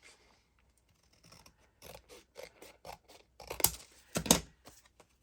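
Scissors cut through greeting card, a series of short crisp snips that speed up, ending in two louder, sharper cuts. Close and clear in a quiet room.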